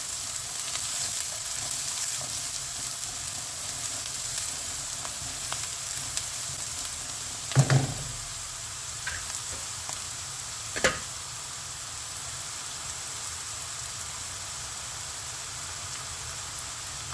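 Chopped onions fry in hot oil in a pan for a Tamil kovakkai masala, a steady even sizzle running throughout, broken by two brief louder clatters partway through.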